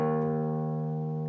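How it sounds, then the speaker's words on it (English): Open low E string on a guitar, a single plucked note sustaining steadily and evenly, close and clean with nothing else heard. "I'm going to play my low E string open"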